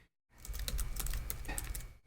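Rapid typing on a computer keyboard, close and clear, a dense run of key clicks after a brief silence, with no voices.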